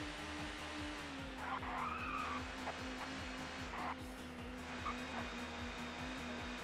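Tyres screech and squeal continuously as a touring car drifts through corners at Croft in ToCA Touring Car Championship, with a droning engine underneath, steady and moderately loud, with no talk.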